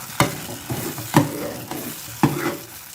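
A spoon scrapes through nishasta halwa made with milk and ghee in a pan, with four or five firm strokes roughly a second apart over a soft, steady sizzle and no voices.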